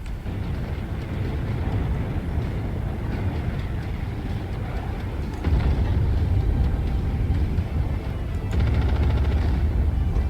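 An AC-20 autocannon fires in Mechwarrior 5 Mercenaries amid a continuous, dense low-end roar of battle, with heavy booming hits landing partway through and again near the end, loud and close.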